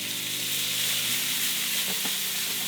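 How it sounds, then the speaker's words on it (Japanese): Broccoli roasting in a frying pan with plenty of butter being spooned over it, giving a steady, close sizzle and hiss with soft scraping and clinks from the basting spoon. "アロゼっていうのはこのように焼き油をかけていくことですね"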